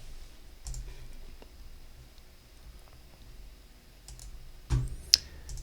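Sparse computer mouse clicks during desktop software work, a few soft isolated taps with one sharper click near the end, close and quiet over faint room noise.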